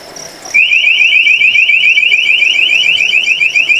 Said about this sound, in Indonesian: motion detector akan memberikan tanda seperti lampu menyala atau alarm berbunyi